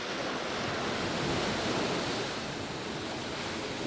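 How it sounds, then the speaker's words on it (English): Storm waves pound the shore on Edgemere Drive under strong wind, a dense unbroken roar of surf and gusts, loud and steady with no voices. "The waves are just pounding."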